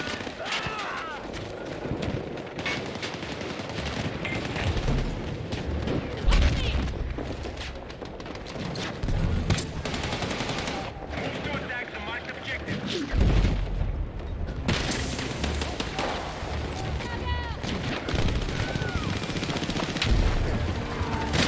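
Battle rifle fire in a first-person shooter video game, repeated sharp bursts and booms scattered across a busy, loud battle soundscape, with voices talking over the gunfire.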